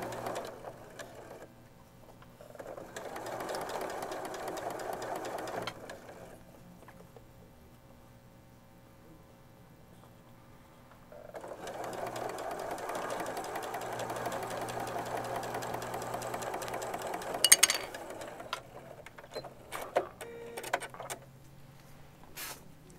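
Sewing machine stitching a quilt block, running in two long bursts with a quiet pause between and a few sharp clicks and knocks near the end.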